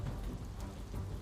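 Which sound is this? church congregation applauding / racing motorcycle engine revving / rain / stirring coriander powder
rain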